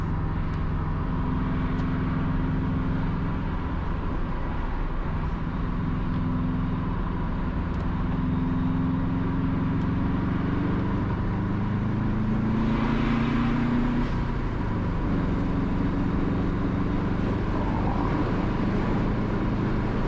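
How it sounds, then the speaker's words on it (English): Road traffic on the Mandela Highway in Jamaica makes a loud, steady rumble of engines and tyres, with a vehicle passing closer and swelling briefly near the middle. "the overhead traffic merges from the left here onto the Mandela Highway"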